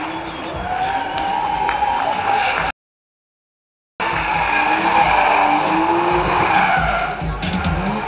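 A BMW 3 Series drift car slides and skids around the track during a Latvian drifting championship qualifying run, tyres squealing over a steady loud engine roar, with a short break of silence partway through.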